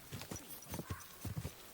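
Horse hooves clip-clop at a steady walking pace in Kingdom Come: Deliverance II, a run of soft, close hoofbeats over low game ambience with a faint voice beneath.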